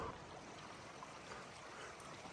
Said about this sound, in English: we've already come across a little stream bubbling through these rocks right here